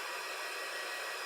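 A plugged-in heat gun blows a steady, even roar of hot air while drying a painted tea towel craft project, a constant close whoosh with no breaks.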